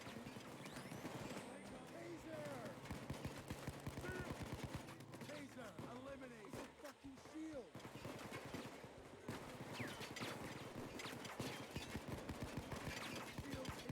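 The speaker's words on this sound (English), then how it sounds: "As you hear multiple bullets hitting the shield and it finally disappeared." Rapid gunfire from a Payday 2 heist, bullets striking a police riot shield in dense bursts of sharp impacts that run almost continuously, loud and close over a busy game mix.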